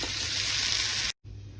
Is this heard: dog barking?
no